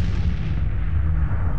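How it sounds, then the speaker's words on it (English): Explosion in a dinosaur cartoon, a sustained low rumbling boom that fills the whole moment, loud and heavy, with no voices over it. "Yet another explosion. I think this one came from the White Cliffs."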